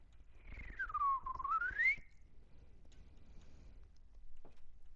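A single person whistles a smooth sliding tune, dipping low then rising, near and clear for about a second and a half, followed by quiet room noise and a few faint knocks.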